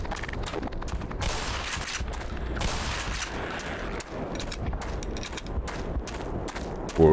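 Continuous dense gunfire in the video game Black Mesa, a shotgun among rapid overlapping blasts and clatter, loud and sustained throughout with a heavier burst at the end.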